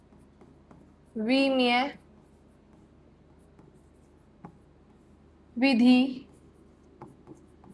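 A physics question is written out by hand, with faint scratching strokes and light taps across the whole stretch. Two short bursts of a woman's speech break in over the writing.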